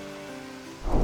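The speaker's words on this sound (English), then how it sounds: "Okay, so thunderclap." Thunder Clap, a warrior ability in World of Warcraft Cataclysm Classic, sounds as a sudden rumbling crash in the last moment of the clip. It follows a low sustained tone, with no talking.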